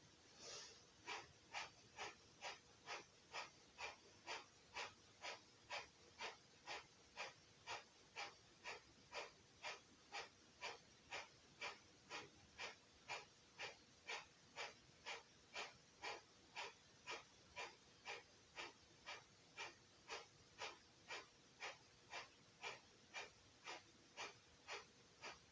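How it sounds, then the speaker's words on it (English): Rhythmic breathing exercise: about forty sharp, forceful exhales through the nose at a quick even pace, each followed by a quiet passive inhale, close and steady throughout with no talking. "So this breathing technique is very good for the immune system, for building fire and warmth in the body"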